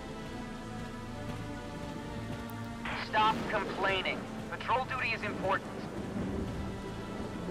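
Steady rain with a low rumble of thunder fills a stormy battlefield in the game Valkyria Chronicles 4, a constant wash of downpour running throughout while voices speak over it in the middle.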